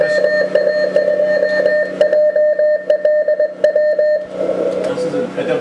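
Morse code tones from a ham radio keyed by logging software at a Field Day station on Cape Cod, a steady stream of rhythmic beeps sounding close and loud, with people talking underneath.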